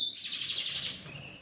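Several small birds chirp and squabble close by, a bright continuous run of tweets and calls that barely lets up, with a sharper burst near the end.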